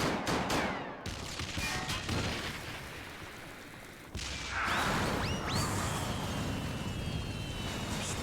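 Gunfire from the Final Fantasy XIV Heavensward game, a dense loud volley of shots with booming bursts, a brief lull midway, then renewed firing layered with whistling streaks and clatter.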